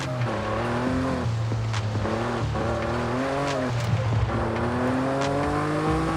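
A race car engine in Forza Horizon 5 drones loudly and steadily, its pitch climbing through the gears and dropping at each shift as the car drives on a Baja course, with some tire noise under the engine.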